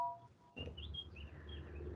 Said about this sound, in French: C'est l'oiseau.